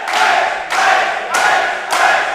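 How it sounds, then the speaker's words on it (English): A wrestling crowd in Yarmouth roars in four surging waves of cheering and shouting at a DOA Yarmageddon show, loud and close, with no clear talk. "But just listen to the crowd here in Yarmouth"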